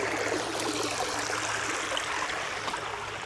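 A nearby creek rushes and trickles continuously along a hiking trail, a dense, even wash of water with faint gurgling detail and no one speaking.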